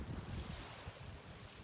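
Ocean surf washes onto a Jamaican beach, a soft steady wash of waves with gusts of wind buffeting the microphone, fairly quiet and unbroken by voices.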